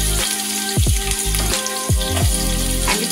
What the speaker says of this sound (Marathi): आता आपण याच्यात कांदा घालूया